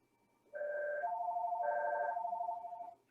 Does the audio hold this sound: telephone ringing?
yes